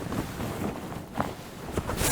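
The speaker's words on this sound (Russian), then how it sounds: "Ветер дует прямо на меня." Wind gusting at a wolf-hunting blind, a loud continuous rush of buffeting wind noise against the microphone with a few sharper gusts and knocks.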